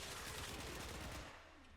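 Rapid gunfire from a pair of high-status slash pistols called the Dex Pixia in the video game Warframe, a dense, loud volley of shots for over a second that tapers off into quieter tail sounds.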